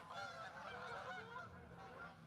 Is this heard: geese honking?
yes